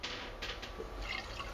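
Wine trickles slowly down the inside wall of a carboy of sour beer, giving a steady, close liquid gurgle with faint drips and no voices.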